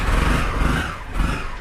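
A Honda CBR 250R motorcycle engine, cold, running close by in a steady, loud rumble with slight swells, alone without voices.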